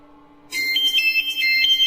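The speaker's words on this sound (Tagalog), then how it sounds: "may tumatawag sa cellphone ng iyong mama" A mobile phone ringtone for an incoming call starts abruptly after a short quiet stretch, then plays a loud, close, bright repeating electronic melody with no talking over it.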